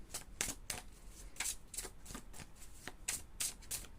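Oracle cards are shuffled by hand in a steady run of crisp riffling flicks, close and fairly quiet, a dozen or so quick bursts with no talking.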